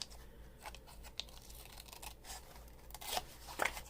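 Scissors cut the corners of a wrap-around journal cover: faint, sparse crisp snips and rustles, ending in a couple of louder cutting crunches.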